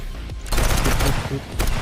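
Rapid bursts of gunfire in a video game, a loud crackling volley starting about halfway through and continuing in dense repeated shots to the end.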